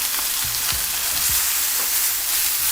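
Marinated chicken wings sizzling on a hot grill, a loud, continuous crackling hiss with a few low thumps near the start and no voices.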